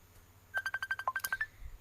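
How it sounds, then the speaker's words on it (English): A phone signals an incoming call with a quick run of about a dozen rapid electronic tone pulses in a short burst, close and clear, with no talk. "Oops, somebody calling me now on my phone."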